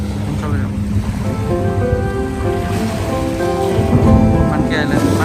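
A boat out on the sea near Monkey Island off Phi Phi in Thailand, waves washing and wind buffeting the microphone alongside a low engine drone, steady and close, with a loud gust toward the end.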